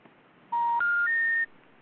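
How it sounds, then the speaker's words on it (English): Three quick touch-tone dialing beeps on a telephone, each a clean steady tone stepping to a new pitch, loud and close against a quiet line hiss. "Dial that number. Dial the number."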